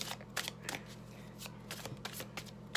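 A deck of oracle cards shuffled by hand, soft repeated riffles and light flicks close to the listener, quiet and steady with small sharp card snaps, no voices.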